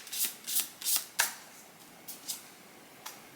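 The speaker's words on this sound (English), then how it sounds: "I'm going to pull one more card" Tarot cards being shuffled by hand, a quick series of crisp riffling bursts, four close together, then a few softer, sparser flicks, near and clear with no talk.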